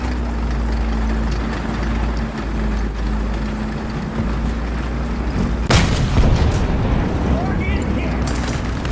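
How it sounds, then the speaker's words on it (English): A 60mm high-velocity gun in the War Thunder video game fires once with a sharp, loud blast partway through, over a steady engine drone. "The 60mm high velocity gun"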